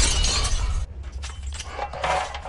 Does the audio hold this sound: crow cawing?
no